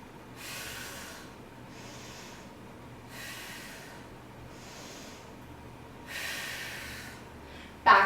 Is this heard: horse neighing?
no